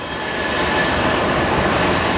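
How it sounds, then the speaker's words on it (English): A Beechcraft King Air 200 turboprop takes off at Phoenix Sky Harbor International Airport, a steady, loud broadband engine roar holding level throughout with no voices. "Alright, we might as well film the Beechcraft taking off."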